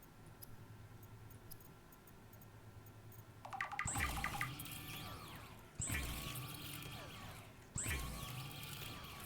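Water pouring and splashing in Subnautica 2, a quiet ambient hum first, then three loud bursts of rushing, gurgling water a couple of seconds apart, each with a low thump at the start.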